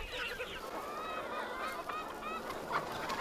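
Chickens on a poultry farm holding about 6,000 birds fed live larvae give a steady chorus of drawn-out, honking calls, with many voices overlapping at moderate distance and no speech.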